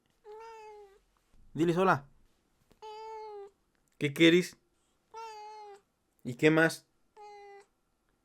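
Cheeto, a pet cat, meows close to the mic in four clear, drawn-out calls, alternating with a person talking to him in Spanish between the meows.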